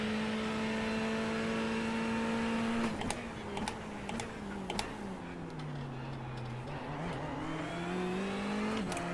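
A BMW Cup race car's engine in the iRacing simulator holds a loud, steady drone that sags in pitch and climbs back, with a few sharp clicks and ticks scattered over it.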